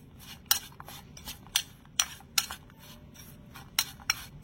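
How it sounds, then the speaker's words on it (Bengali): A spoon stirs raisins and flour together in a bowl, making a handful of sharp, irregular clinks and scrapes over a quiet background with no talking. "এই কিশমিশের মধ্যে আমি একটুখানি ময়দা দিয়ে দিচ্ছি, দিয়ে একটু এভাবে করে নেড়েচেড়ে একটু কোট করে নেব কিশমিশগুলো"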